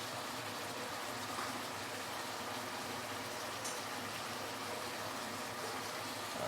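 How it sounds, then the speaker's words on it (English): Dark soy sauce poured into a sizzling pork and green chili stir fry, a steady liquid hiss and bubbling that runs unbroken and fairly loud from start to finish, with no talking. "I am going to add in a little bit more dark soy sauce here"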